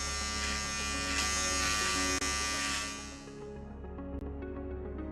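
Electric clippers buzz steadily and close up while shaving the sides of a head, with a dense mechanical hum that eases slightly partway through as the blades shift against the hair.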